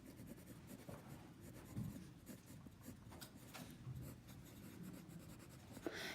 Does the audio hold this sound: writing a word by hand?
yes